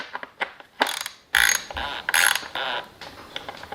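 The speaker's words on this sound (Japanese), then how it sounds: "ここのアクセルワイヤーが抜けないように留めてあるこちらのボルトを外していきます。" A hand ratchet clicks in short bursts while backing out an 8mm bolt holding the throttle cable on a Honda 2 hp outboard carburetor, close and loud with pauses between strokes.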